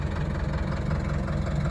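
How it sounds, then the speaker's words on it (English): A tractor engine idles steadily on a cattle farm, a continuous low rumble with a faint knock, close and even throughout with no talking. "let's hop back on the tractor and go check out that other block"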